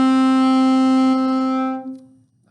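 One held saxophone note A, fingered with first and second fingers, sounds clear and steady and then fades out after roughly two seconds, with nothing else around it.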